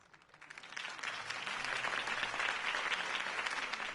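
Crowd applause swells from quiet to a steady, dense roar of clapping after a campaign speech for Harvey Dent in Batman The Telltale Series, sustained throughout without voices.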